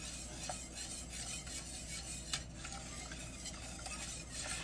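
Chocolate pie filling in a pot, scraped and stirred while it boils, giving a soft continuous bubbling hiss with faint utensil scrapes and an occasional light clink.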